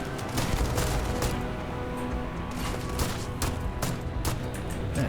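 Sustained gunfire from a hip-fired gun in the video game Starfield, a dense run of overlapping shots close and loud with no break across the clip.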